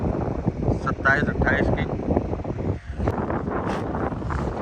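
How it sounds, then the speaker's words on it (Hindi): Morning wind gusts across an outdoor kite-flying field in Jeddah, buffeting the microphone with a constant rumble while people talk throughout. "सुबह का टाइम है, बढ़िया हवा चल रही है"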